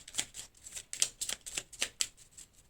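A tarot card drawn and shuffled from a deck, a rapid series of crisp papery flicks and slides, close and fairly soft, with no talk.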